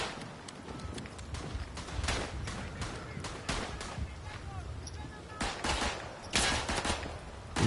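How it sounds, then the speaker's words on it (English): Rifle and machine-gun fire crackle across a World War I Western Front battlefield in a video game, dense overlapping volleys with louder close shots breaking through the continuous distant fusillade. "Who's shooting at me?"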